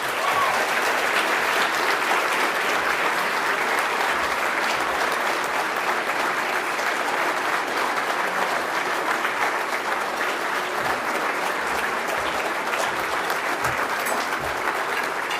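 Sustained applause from a large audience at a gala dinner greeting the keynote speaker, General Austin Scott Miller, a dense, steady clapping that holds at full strength for about fifteen seconds without easing.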